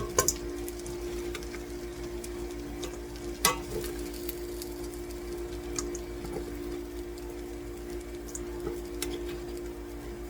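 Quail pieces browning in tallow in a pan, a steady close sizzle running throughout, with a few faint clicks and utensil taps over the frying.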